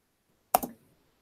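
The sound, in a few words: typing on a computer keyboard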